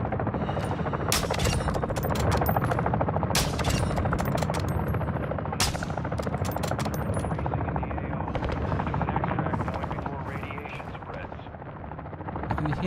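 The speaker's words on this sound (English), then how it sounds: "I can hear someone shooting over here." Gunfire in Call of Duty DMZ, a string of sharp cracks and bursts popping repeatedly over a constant helicopter-like rotor drone, with a voice talking at times underneath.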